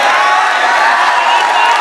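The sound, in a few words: audience cheering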